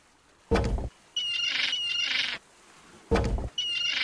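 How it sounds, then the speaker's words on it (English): Seagull calls in an old adventure video game: two harsh, loud squawks, each following a short burst of noise, repeating in a clear pattern with no voices over them. "Seagulls can be quite frightening."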